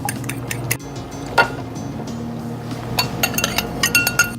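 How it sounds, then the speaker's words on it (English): A fork rapidly beating an egg in a mixing bowl: light clinks and ticks, with a flurry of quick, close taps near the end. "An egg, I'm just going to scramble it before I add it to my yeast mixture"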